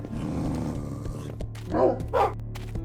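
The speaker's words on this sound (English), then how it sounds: "This dog just doesn't stop" A dog in a Minecraft adventure story barks and growls up close, two loud barks standing out over a low, continuous growl and scuffling.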